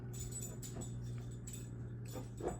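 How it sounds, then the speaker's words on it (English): A dog playing around in the background makes faint whimpers, shuffling and light jingling sounds, quiet and distant over a steady low hum. "my dog is in the background playing around and stuff"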